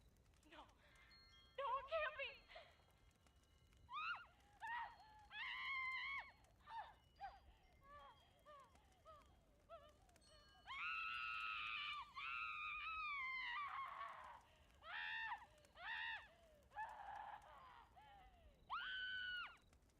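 Shrill, wavering Wendigo screams from the Fallout 76 video game, several drawn-out cries in bursts with gaps between them, loud and close.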